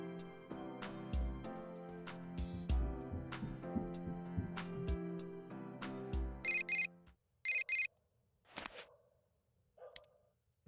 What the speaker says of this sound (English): You received a text message from Risei